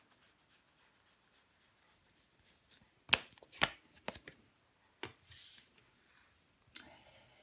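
Tarot cards are laid on a table and flipped over in a quiet room, giving several sharp, separate snaps and slides with pauses between them and no voices.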